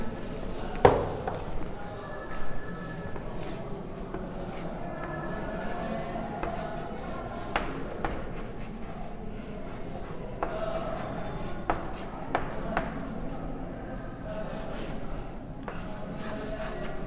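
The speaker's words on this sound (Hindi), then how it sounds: "दोबारा लिख देता हूं मैं" Chalk or marker scratches across a board in short strokes and taps, with sharp clicks at the start of some marks. The writing is faint and sits under a quiet room background.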